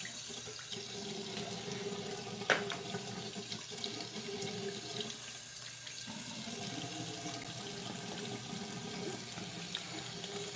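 A sink tap runs steadily with cold water for hand and face washing, a continuous close rushing hiss with one brief louder splash or knock partway through, no voices.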